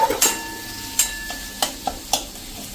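Chopped medium tomato stirred in a pan over a slow flame for dal tadka, with a soft continuous sizzle broken by several sharp scraping strokes of the spoon, close and alone with no voices.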